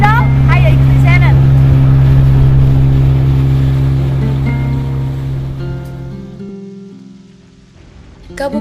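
A speedboat heads out toward Pulau Dao, its engine a steady loud drone mixed with rushing water and spray, while a voice narrates over it before the motor noise eases and fades near the end.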